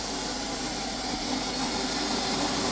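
A radio-controlled model jet powered by two RAM 750 turbines howls in a steady, loud, close turbine roar with a thin high whine over it and no variation.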